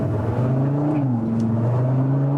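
Engine of a 2022 Audi RS3 pulling under acceleration from inside the cabin, a steady loud drone whose pitch rises slightly and dips, heard alone without talk.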